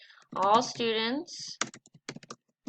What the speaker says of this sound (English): just typing it exactly as it is